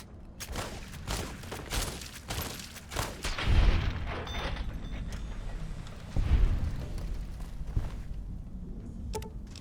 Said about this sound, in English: My first shots must have been hitting a wall or something.